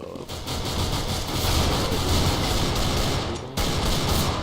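Gunfire from Counter-Strike: Global Offensive: a dense, continuous fusillade of rapid shots with a loud steady wash of noise, briefly dipping near the end before resuming.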